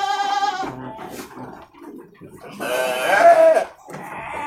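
Sheep and goats bleating in a crowded pen on an Indonesian farm, several loud, wavering close calls, one at the start and a longer one near the end, with someone talking between them.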